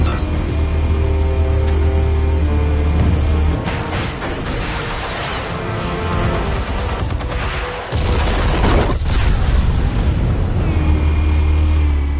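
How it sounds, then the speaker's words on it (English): A heavy detonation of armed explosives in Batman: The Telltale Series, a loud sustained blast and rumble with crackling debris, a sharp cutoff near the middle, then another burst of roaring, broadband noise. "Explosives armed. Fire when ready."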